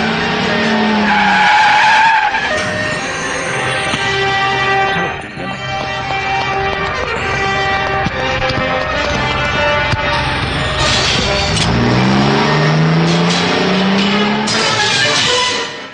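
Tires screech in a long, loud skid as a car races, its engine revving and surging through rising and falling whines in a dubbed South Indian movie action scene, with no voices over it.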